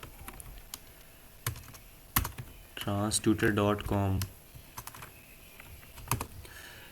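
Keys clack on a computer keyboard while a website address is typed, scattered light taps spread across the moment, with someone speaking over part of it.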